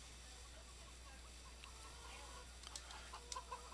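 Chickens cluck in Farming Simulator 17, a few soft, scattered clucks over a low steady hum, growing a little busier toward the end.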